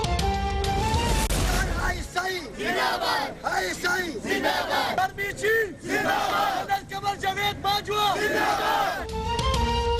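Crowd at a street rally in Lahore in support of the Pakistan army, loudly chanting slogans in rhythmic bursts, voices surging and dropping together, with cheering throughout.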